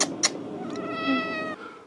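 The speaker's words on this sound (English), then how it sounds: "this is Gay Kitty, my cat" A pet cat gives a single drawn-out, tonal meow close by, preceded by a couple of faint clicks, with a quiet room behind it.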